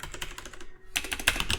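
Fast, clattering keystrokes on a computer keyboard, typed close by in two bursts with a brief pause between them, no voices over the tapping.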